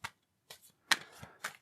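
Tarot cards being shuffled, heard as a few soft, separate bursts of riffling and slapping with quiet pauses between them, close but faint.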